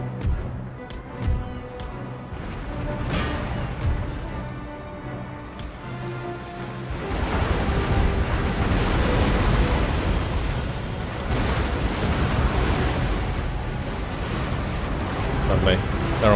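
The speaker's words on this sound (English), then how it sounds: "I'm just gonna give it a close broadside" A British warship in Empire: Total War fires a close broadside. A few scattered pops give way to a loud, rolling roar of cannon fire that rumbles on for several seconds.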